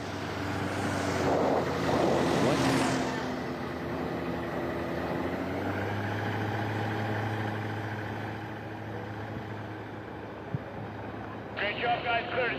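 Propeller airplanes, including an old Cessna 182, roar through a STOL drag race at an air race, a steady engine drone with wind buffeting, swelling early then settling, with a brief higher whine near the end.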